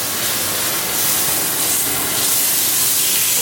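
Meat sizzling loudly in a hot pan right after being flipped, a steady dense hiss of spattering fat that swells slightly stronger toward the end, with no talking.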